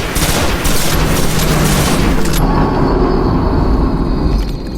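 A large weapon in the video game Destiny: The Taken King fires in a loud, continuous barrage of booming, rumbling blasts that fill the scene, with a sharp change in tone partway through as the firing continues.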